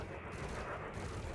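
Ship weapons firing in the space combat game Elite Dangerous, a dense, continuous roar of rapid gunfire-like blasts held at a loud, even level for a brief moment.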